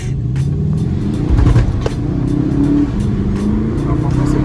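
A VW Golf 7 GTD diesel with DSG gearbox pulls hard under throttle inside the cabin, a steady low engine drone swelling slightly as it accelerates, with voices talking over it.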